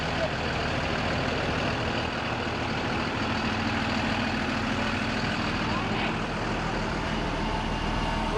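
A school bus engine idles with a steady low rumble and hum throughout, close and constant, while muffled voices talk faintly over it.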